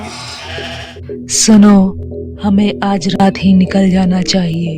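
Sheep bleat in repeated wavering calls on a hillside pasture while a herder grazes his flock, heard together with loud voices talking in an animated story scene.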